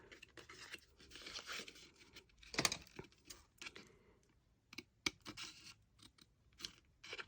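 Scissors snipping through gift box packaging paper, a series of crisp close cuts and crinkling, with one sharper snap in the middle, quiet otherwise and no talking.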